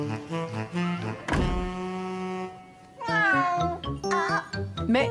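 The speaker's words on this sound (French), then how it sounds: "c'était Charlie, le chat de Sarah" A cartoon cat meows several times in a French animated children's show, the first cry long and drawn out, later ones shorter and rising, loud and close over light music.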